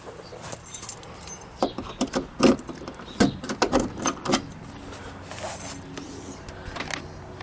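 The boot of a 2005 Chevrolet Impala is opened, with jangling keys, clicks and clunks from the latch and lid in a quick irregular cluster, close and moderately loud.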